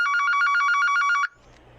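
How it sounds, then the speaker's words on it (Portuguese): An electronic telephone ring trills in fast repeated bursts, loud and close, for over a second before cutting off abruptly into faint background noise. "Perdão, irmãos, entrou uma chamada aí"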